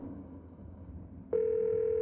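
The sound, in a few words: phone call dialing in video game Scarlet Hollow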